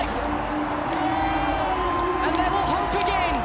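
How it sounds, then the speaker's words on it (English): A crowd at a Sri Lanka vs Zimbabwe cricket match cheers and whoops in the distance, sustained and rising slightly, while a commentator talks over it. "The crowd comes to life."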